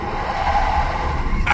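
A Chevy Volt electric car launching hard from a standstill in sport mode with traction control off: a steady, loud whine and road roar from inside the cabin, with a brief higher squeal near the end.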